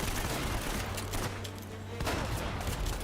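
Shotgun fire in the video game Uncharted: Drake's Fortune, a dense, loud burst of gunfire and booms that fills the whole moment with no speech over it.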